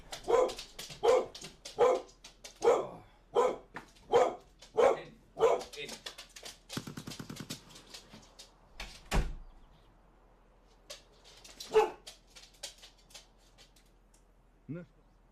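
Several dogs bark in a quick rhythmic run of loud, close barks, then scattered single barks and a door-like rattle, with a person hushing them in between.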